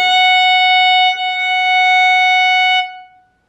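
A single bowed violin note, first finger on the E string, played by a beginner-level player: one steady, bright sustained tone lasting nearly three seconds, loud and close, with a short ringing release after the bow stops.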